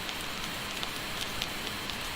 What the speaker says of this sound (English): we've got the same sort of vinyl crackle